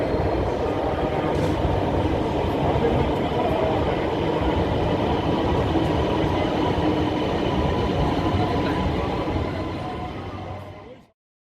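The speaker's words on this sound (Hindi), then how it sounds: "तो आज मैं सफ़र करूंगा ऑरेंज मेट्रो ट्रेन पे" Lahore's Orange Line metro train on the move, heard from inside as a loud, steady rumble of wheels and rails that holds for about ten seconds before fading and cutting off.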